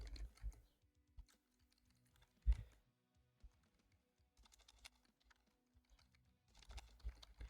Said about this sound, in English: I can type, I promise.